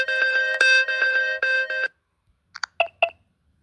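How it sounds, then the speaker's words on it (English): Phone SMS notification ringtone, a quick run of bright electronic beeping notes followed by a short pause and a few sparse chime-like blips, clear and close with no talking. "New SMS notification."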